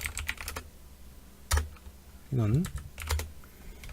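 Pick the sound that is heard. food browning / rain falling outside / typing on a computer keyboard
typing on a computer keyboard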